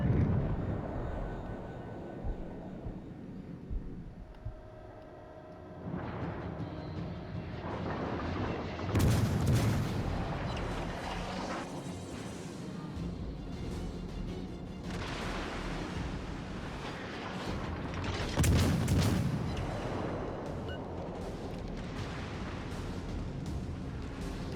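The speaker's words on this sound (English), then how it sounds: "My teammates are shooting at it now." Naval shell fire in World of Warships Legends, with the premium cruiser Mysore in battle: deep rumbling booms and roaring blasts over a constant sea-and-engine wash, with heavy salvos swelling around the middle and again near the end.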